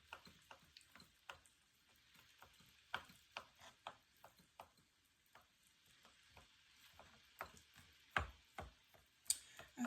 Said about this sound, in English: I get the organs and I just chop them up really good